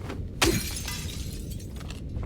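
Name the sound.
glass shattering in Silent Hill 2 video game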